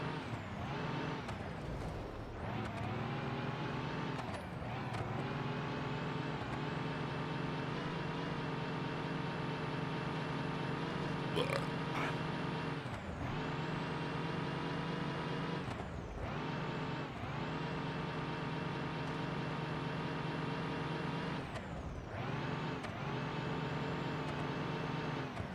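Bus engine roaring steadily with tyre screech while drifting sideways in a video game, a long sustained mechanical whine broken by brief dips as the throttle lifts, loud and close, no voices.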